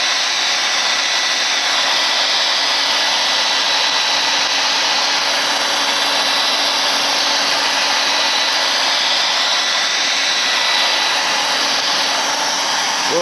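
A hair dryer blows in a continuous loud, even whoosh with a high whine, drying spray-bottle paint art and running without pause the whole time, with no voices.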